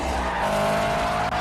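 Race car tires skidding and squealing in a film scene after the car hits a billboard and loses control, a loud continuous screech over engine roar.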